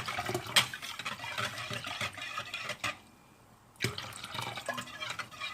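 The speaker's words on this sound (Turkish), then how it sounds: "Su ilave ediyorum." Water poured into a cooking pot in a home kitchen, a steady splashing pour with light clinks of utensils, briefly pausing before resuming; no voices.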